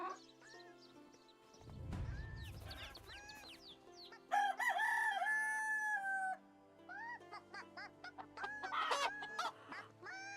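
A boy character in the Medieval Dynasty video game clucks like a chicken, giving a run of squawking clucks and crow-like calls over a low music bed, fairly faint and in bursts.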